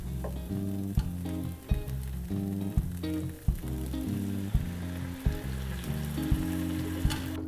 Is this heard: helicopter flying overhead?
no